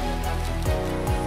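Heavy rain on a mountain trail on the climb toward the summit of Gunung Kerinci in Sumatra, a loud continuous roar of downpour with low rumbling tones mixed in.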